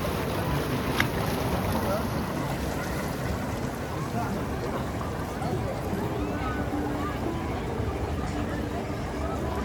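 Intamin log flume water ride at Legoland Deutschland: a loud, steady rush of churning water and wind buffeting the microphone, continuous for the whole stretch with no clear breaks.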